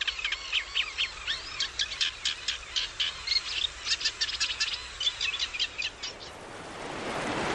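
Birds call in a river delta with rapid, repeated high chirps and trills in dense bursts, near and clear, before fading into a rising soft rush of wind or water.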